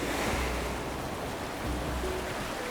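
Steady broadband wash of ocean surf rolling onto a beach in Animal Crossing: New Horizons, a continuous even roar of waves with no talking.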